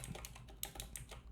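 Quick, uneven taps on a computer keyboard while JavaScript code is typed, a short burst of close, light key clicks with no voices.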